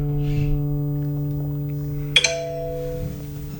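An acoustic guitar's D string is plucked during tuning, ringing as a sustained tone that decays, then a second sharp pluck sounds partway through and rings on, close and clear with no talk.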